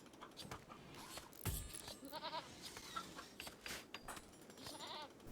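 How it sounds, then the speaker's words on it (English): A baby goat bleats in RimWorld, several short wavering cries standing out moderately over a soft layer of ambient game sound. "The birth of another baby goat then, for a change, does not bring a new channel supporter's name into the series"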